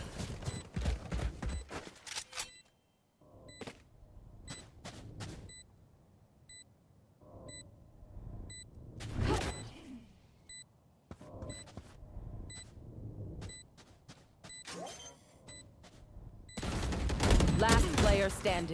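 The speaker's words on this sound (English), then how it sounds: "shooting right now." Bursts of rapid gunfire and single shots from the tactical shooter Valorant crackle in irregular clusters amid game beeps, some sharp and close, others softer, with a voice talking at times.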